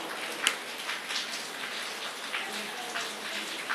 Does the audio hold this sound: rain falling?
yes